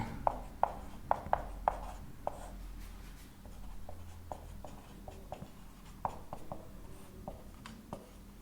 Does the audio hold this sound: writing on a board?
yes